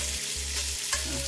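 Bacon frying in a pot gives a steady, dense close-up sizzle throughout, with a low hum underneath and no talking.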